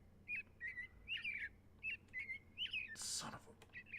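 Robins in the Minecraft video game chirp in repeated short whistled phrases, fairly close and lively, broken briefly by a burst of noisy rustle.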